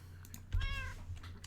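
A Minecraft cat gives a single clear meow, a short rising-falling cry about half a second long over a low game hum.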